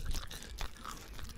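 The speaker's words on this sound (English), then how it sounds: "I'm chewing into the mic." Crunchy chewing right up against a microphone, a close, wet run of bites and mashing that goes on steadily for about a second and a half, with no one talking.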